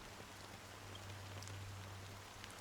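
Fine drizzling rain in the Honkai Star Rail video game, a soft, steady, even hiss of falling drops that stays faint and continuous throughout with no voices.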